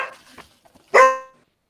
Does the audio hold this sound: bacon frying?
no